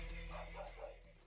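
Dogs barking and yipping at a rescue from an illegal dog farm in Chuncheon, Gangwon Province, where adult dogs and puppies are kept in cramped cages; a short, close burst of barks with a whimpering edge, with no talk.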